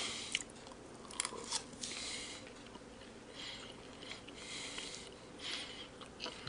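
Close, wet chewing and biting on barbecued beef ribs in sauce, steady mastication with soft crunches and a few sniffs, no talking.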